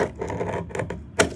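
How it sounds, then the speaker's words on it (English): A knife scores once across a piece of faux brick veneer panel, giving a short, dry scratching scrape close by with a sharper click near the end, no talking. "I take a knife, score it across it"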